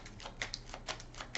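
Kipper fortune-telling cards shuffled by hand, a brief run of soft, quiet papery flicks and riffles coming in several short bursts.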